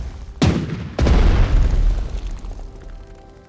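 Explosions and gunfire in a Blitzkrieg strategy video game set in a battle in Poland: two loud, booming blasts a split second apart, followed by a long rumbling roar that slowly dies away, with no voices.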